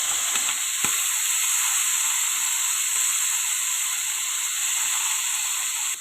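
Tomatoes sizzle in a hot pan with garlic and onion while chicken Bicol Express cooks. A loud, steady frying hiss runs throughout, with faint clicks of stirring.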